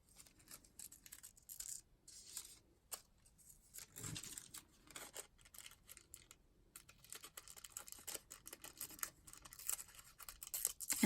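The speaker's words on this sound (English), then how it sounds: "I'm going to just tear these as I want them" Paper torn by hand into journal tags, heard as faint, intermittent ripping and crinkling strokes in short bursts, growing busier and louder toward the end in an otherwise quiet room.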